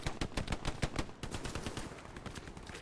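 Rapid bursts of automatic and single-shot gunfire crackle through a Hell Let Loose firefight in a World War II shooter game, dense overlapping volleys at close and mid range with no talking.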